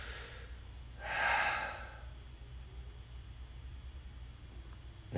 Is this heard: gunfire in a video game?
no